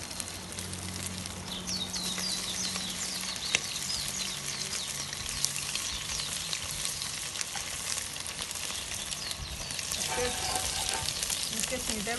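Chicken pieces frying in hot oil, a loud and steady close sizzle with crackling spatters that runs the whole time without talk.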